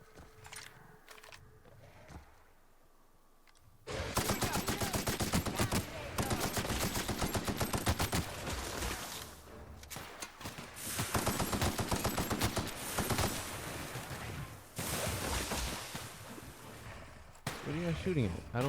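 Sustained gunfire from The Outer Worlds, with rapid bursts of shots and near-continuous volleys after a quieter opening. A person talks over the shooting.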